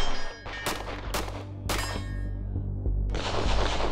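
Three sharp, loud gunshots ring out about half a second apart at a night-time European professional shooting competition, followed by steady rumbling noise and a brighter rushing hiss near the end.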